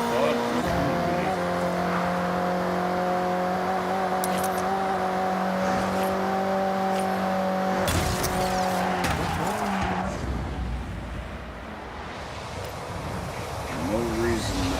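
Ferrari race car in the racing game Forza Horizon, engine held at a steady high whine with tyre squeal and skidding, then a sharp shift into rougher, fluctuating revs near the end, loud and continuous.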